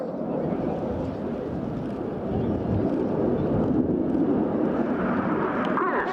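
Red Arrows jets flying a rolling display at RIAT air show, a steady broad roar of distant jet engines with wind buffeting the microphone, swelling slightly louder midway and holding without speech.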